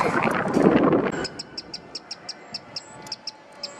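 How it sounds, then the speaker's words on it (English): A bird chirps loudly in a quick, even series of about a dozen sharp, high chirps. A short burst of broad rustling noise comes first, and then the chirps ring out clearly on their own. "I think there's a bird in there."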